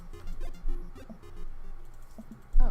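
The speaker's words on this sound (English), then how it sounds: "If you hear a lot of clicking, it's because speedrun tactics, guys." Fast, irregular clicking and tapping of a mouse and keys while playing Dream Daddy at a hurried speedrun pace, close and fairly loud, with no talking.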